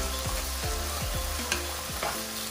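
Onions fry in oil with a low continuous sizzle while a utensil scrapes and stirs the pan in quick irregular strokes.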